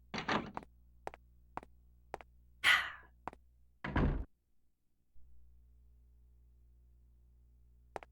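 Door opening in the horror video game Clock Tower II: The Struggle Within, with a string of sharp clicks and a louder creaking thud, then a brief scraping swell fading into low room hum, alone with no talk.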